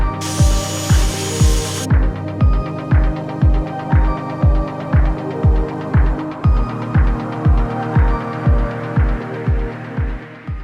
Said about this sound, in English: Janelle and I just made these pocket holes. Basically, this is what we took, drilled it